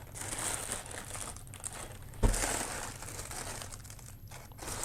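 Decorative tissue paper printed with the Adidas and Harden logos, crinkled and rustled close up in a continuous crackling stream, with one sharper thump or rustle partway through.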